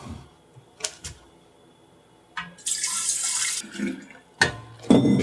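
Kombucha poured from a container into a freshly emptied and cleaned keg, a steady bright liquid rush for about a second, framed by brief clinks and handling knocks at close range.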